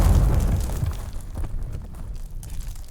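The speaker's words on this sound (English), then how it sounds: "let's pull our guns up in the sky and just start firing wildly" Guns fired wildly into the sky in a loud, rumbling opening burst of shots that slowly fades into scattered softer pops and crackles.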